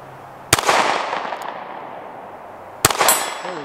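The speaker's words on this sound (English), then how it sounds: "Let's shoot this great little firearm." Two sharp pistol shots from a Taurus G3c fired at an outdoor range, each a loud crack with a ringing tail, spaced about two seconds apart against quiet background.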